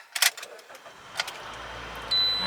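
A silver 2011 Toyota Corolla S with a VVTi engine and 137,000 miles cranks and fires up, a few faint clicks and a short crank leading into a steady, quiet idle hum close by.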